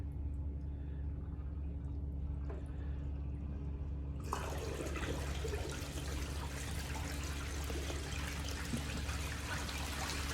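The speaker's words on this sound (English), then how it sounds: "we'll just turn on the water a little bit." Water switched on into a trial beach sluice setup using Lake Superior beach sand with a boil box and VDR mats, starting as a low steady rumble and then swelling into a loud, continuous rushing hiss of flowing water.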